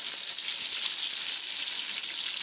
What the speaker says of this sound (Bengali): আলুগুলো ভালো করে ভেজে নিই